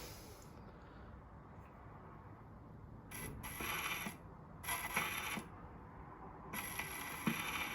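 A 1926 portable 101 gramophone starting a record: a faint steady surface hiss carries a few brief mechanical clicks and scratchy bursts as the needle settles, with no voice heard.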